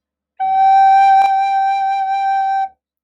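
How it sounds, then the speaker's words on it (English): A recorder sounds a single sustained G note with thumb and three fingers down, one clear, steady whistle-like tone held for about two seconds, close and loud, with no talking. "So G, thumb, 1, 2, 3. Slow air,"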